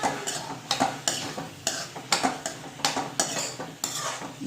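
Paneer gets stirred into fried gravy in a pan: a spoon scrapes and clinks against the metal in a regular rhythm of about a dozen strokes over a low sizzle, close by, with no talking.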